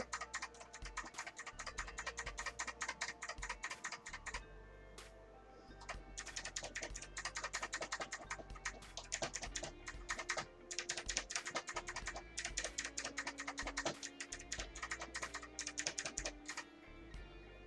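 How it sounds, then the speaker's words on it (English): Arrow keys on a computer keyboard are tapped rapidly and continuously, a dense stream of close plastic clicks with a brief pause near the start, no voices. "Arrow keys on my keyboard,"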